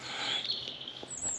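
A robin singing in spring woodland in the Vosges Mountains, a thin high warbling phrase, clear but at moderate distance, with no voices over it.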